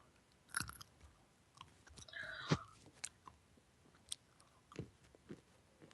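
Close, wet chewing with lip smacking from someone snacking during a League of Legends session, irregular crunchy bites and smacks scattered over several seconds, no talking.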